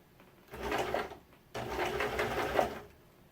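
A sewing machine stitches scrunchie fabric in two steady runs of rapid, fairly quiet mechanical whirring, with a brief pause between them.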